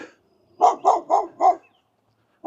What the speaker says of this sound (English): It's different if I was right up against the fence and the dogs go